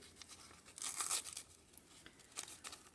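Crepe or tissue craft paper being ripped open for a handmade paper flower, a close, crisp tearing burst with crinkling that flares then trails off into a few softer rustles.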